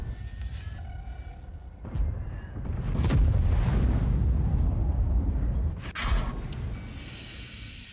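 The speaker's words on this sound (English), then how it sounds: "The E4 just fired." Tank cannon fire in World of Tanks: a few sharp booms land around three and six seconds, followed by rumbling blast tails and a rising hiss, loud and close with no voices.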